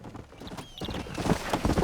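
Horse hooves clip-clopping in the Red Dead Redemption video game, a quick run of close, steady hoof beats growing slightly louder toward the end.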